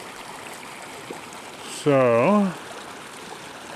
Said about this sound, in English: A little creek running down.